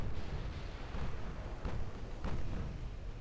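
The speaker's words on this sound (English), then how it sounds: "These 20-inch guns are loud" 20-inch naval guns firing in the warship game Ultimate Admiral: Dreadnought, a dense, heavy rumble with several deep booming blasts rolling over one another, loud and continuous.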